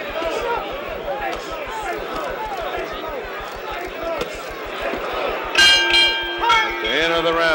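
A boxing ring bell rings out to end a round in the Muhammad Ali vs Ken Norton fight, its bright, sustained tone rising over a loud, steady crowd roar and commentary in the last couple of seconds.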